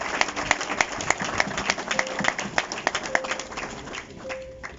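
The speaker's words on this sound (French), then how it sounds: "Est-ce qu'on peut encore acclamer très fort pour cela?" A crowd clapping in sustained applause at the inauguration ceremony of the new DRC embassy building in Pretoria, a dense patter of hands close by, with a few brief vocal tones over it.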